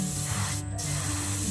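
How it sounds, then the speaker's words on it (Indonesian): Spray gun applying a thin epoxy coat onto a metal fishing jig, a steady close hiss with a brief bright burst in the middle over a low background hum. "Ini kita semprot secara perlahan saja"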